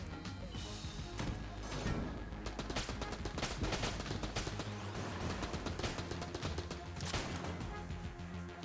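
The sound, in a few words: gunfire in the video game Enter the Gungeon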